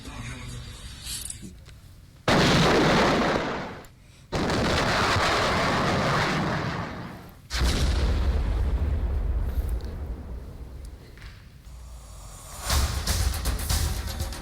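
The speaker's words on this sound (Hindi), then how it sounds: "ये जो आप तस्वीरें देख रहे हैं जहां धमाके लगातार हो रहे हैं" Loud booms and heavy blasts from artillery and explosions in the Russia-Ukraine war erupt repeatedly, with dense rumbling bursts and crackling, interspersed with brief quieter gaps.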